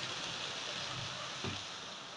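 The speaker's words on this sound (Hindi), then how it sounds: "मुझे ज़रा बारिश आ रहा है" Steady rain falls outdoors as a constant, even hiss of drops, moderately loud and unbroken, with a brief soft thump partway through and no talking.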